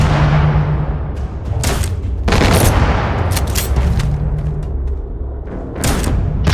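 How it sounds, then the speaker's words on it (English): Grenade launcher fire in Starfield against a tough enemy group, with repeated loud booms and bursts of gunfire layered over a dense, continuous combat roar, blasts recurring every second or so. "Go with the grenade launcher."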